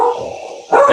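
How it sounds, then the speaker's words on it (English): A pet dog gives two short, loud barks close by, separated by a brief pause, with no talking. "Tyler's here, and my dog did not like it."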